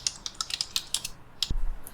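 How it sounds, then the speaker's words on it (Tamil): Fingers typing the word hello over and over on a computer keyboard: a quick run of about a dozen crisp, close key clicks, ending with one heavier thump. "சும்மா ஹலோ ஹலோன்னு டைப் பண்ணிட்டே இருக்கேன்"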